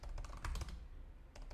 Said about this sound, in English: Started typing while I was saying words